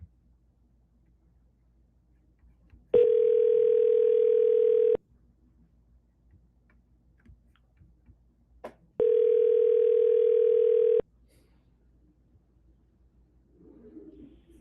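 A telephone call rings out as it is dialed: two long, even ringback tones about two seconds each, separated by a quiet gap, with faint bird cooing at the end.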